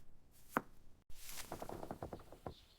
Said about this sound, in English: Grandma slices sweet corn